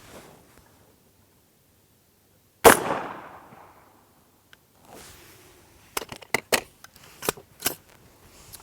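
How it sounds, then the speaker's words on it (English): One sharp, loud rifle shot rings out with a short decaying tail, followed after a pause by a run of quick metallic clicks and clacks as the bolt action is worked by hand to chamber the next round. "Now I have to work the action manually, right? Pick up the next round."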